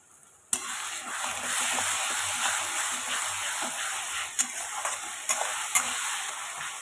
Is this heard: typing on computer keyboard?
no